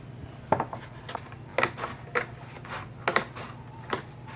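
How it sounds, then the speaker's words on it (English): Scissors snipping along the edges of a paper cupcake carrier, giving a series of crisp, close cuts in irregular clusters with short pauses between them. "And cut out all of the edging for this end where it will connect together."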